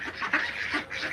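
Ducks kept for their eggs quack in a few loud, close, nasal honks, several calls overlapping in quick succession with no talk.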